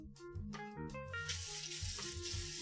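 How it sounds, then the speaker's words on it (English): Cold water gushing from a kitchen tap into a pot of potatoes, a steady bright rush that starts after a moment of clattering and continues alone. "Cold water."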